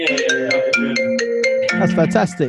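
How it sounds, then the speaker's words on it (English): A mobile phone ringtone plays a bright melodic sequence of tones over a man's speech, close and clear. "Sorry, that was my phone."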